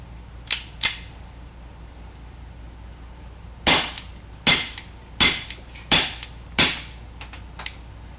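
Suppressed .22LR shots through an AAC Element suppressor using Gemtech subsonic ammo: seven sharp, fairly quiet cracks, two early then five evenly spaced, each with a short tail.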